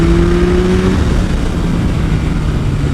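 A 2023 Yamaha MT-09 SP motorcycle engine pulls steadily as the throttle rolls back on, a loud continuous rumble with a rising whine fading early, heard close with wind noise.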